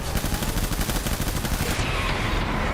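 Rapid automatic gunfire from the video game Death Stranding rattles in a dense, loud burst that cuts off near the end, with no voices over it.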